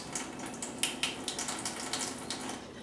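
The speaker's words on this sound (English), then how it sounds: "I'll just come over here to my sink, and I'll turn on the hot water" Hot water runs from a kitchen sink tap, a steady close hiss of flowing water with small splashy spikes throughout, no voices.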